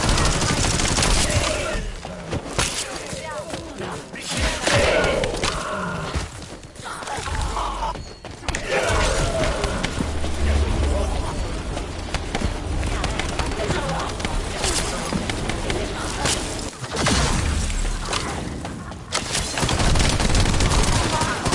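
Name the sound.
gunfire in The First Descendant video game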